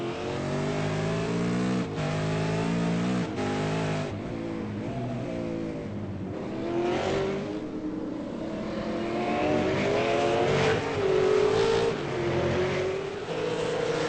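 V8 Supercars race cars at Oran Park accelerating onto the front straight, loud engine notes climbing in pitch through several gear changes, with overlapping cars and a sustained roar and no talking.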